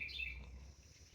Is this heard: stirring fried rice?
no